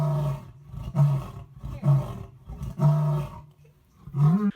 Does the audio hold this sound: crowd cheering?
no